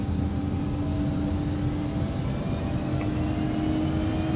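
Twin jet engines of an Embraer E145 held at takeoff power in the X-Plane 11 simulator give a steady loud roar with a low rumble and a constant tonal whine, unbroken throughout.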